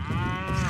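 A cow lets out a single sustained, resonant moo in the video game Hulk: Ultimate Destruction, loud and close over a low rumbling background.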